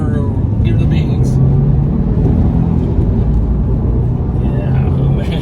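A 2010 Subaru Impreza STI six-speed manual wagon accelerates hard, a steady loud engine rumble and road roar filling the cabin while people talk over it.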